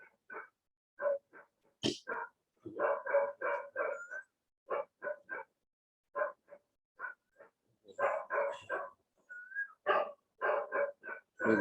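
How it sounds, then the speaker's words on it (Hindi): Dogs outside a house bark repeatedly in irregular bursts, a mix of single barks and quick runs, fairly clear against a quiet background. "घर के बाहर वाले कुत्ते भी कंटिन्यूस बोलते हैं।"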